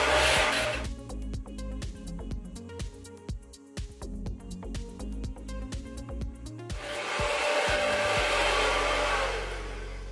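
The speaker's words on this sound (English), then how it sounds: "So I'm just gonna blow dry my hair" A hair dryer blows hair dry with a loud, steady whooshing rush at the start and again over the last few seconds, while sharp clicks and handling knocks fill the quieter stretch in between.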